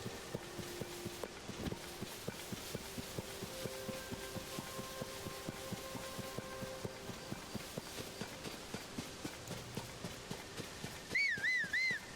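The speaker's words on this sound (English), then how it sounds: "hear my whistle and come to me anyway" Whistled call for a horse in Zelda: Tears of the Kingdom, followed by steady clip-clop hoofbeats of a horse approaching at a run, then a bright rising-and-falling whistle chime at the end.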